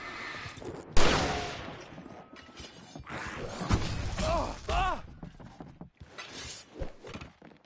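Fireworks set off in Alan Wake Remastered during a stage fight, a string of sharp bangs and crackling bursts at mid distance, with a voice shouting over them.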